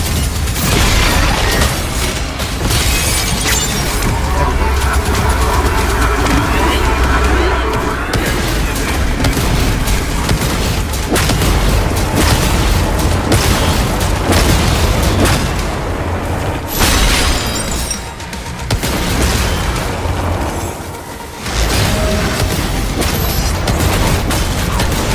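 Rocket launcher blasts go off in DOOM The Dark Ages: loud, dense booms fire one after another against a constant wall of combat noise, with a few short lulls near the end.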